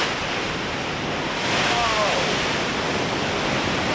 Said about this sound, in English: You can actually feel the ground like rumble beneath you whenever one of these waves hits.